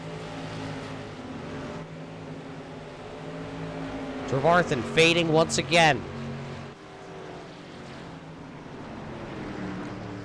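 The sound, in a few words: SK Modified race cars going by on track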